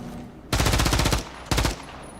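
Two rapid bursts of automatic gunfire in the video game Modern Warfare 3, the first about three-quarters of a second long and the second shorter, loud and close with a brief pause between them.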